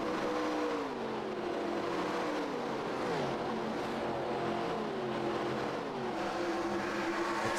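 Race cars in an FTF Cup Series race at Las Vegas roar past on track, engines rising and falling in repeated whining pitch sweeps as several cars weave through traffic, loud and continuous.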